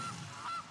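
A single goose honk sound effect from the MTG Arena card game, short, nasal and clear over a soft background hum.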